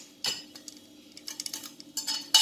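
Cooked keema mince for mutabbaq being spooned into a mixing bowl, with a few sharp metal clinks of spoon on bowl and lighter scrapes in between, close and without talk.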